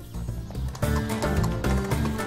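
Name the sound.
Arabian stallion horse neighing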